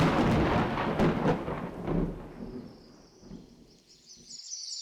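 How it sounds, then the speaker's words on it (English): A thunderstorm rolls outside during an interview, with a loud, close crack and rumble of thunder fading into quieter rain and a faint high bird call near the end. "the thunderstorm isn't getting better during this interview"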